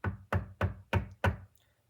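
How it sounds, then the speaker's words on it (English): Five firm knocks by police on a hotel room door, evenly spaced about a third of a second apart, close and loud, then a short quiet tail. "So police, that time a little harder, knocked on the door."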